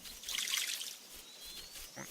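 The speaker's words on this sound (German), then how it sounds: "Und jetzt ist Wasser da runtergekommen." Water trickling and dripping down inside the Craft The World game, a soft, airy splashing that is loudest early on and fades to a faint thin trickle with small drips.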